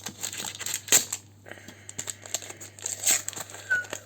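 Minecraft trading card booster packs of eight cards are torn open by hand, with close, crisp foil crinkling and short ripping bursts in an irregular run, no talking.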